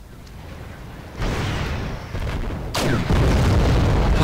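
Video game explosions as BMP armored vehicles are destroyed: deep, rumbling booms that come in successive surges and build to a heavy, sustained roar, with no voices.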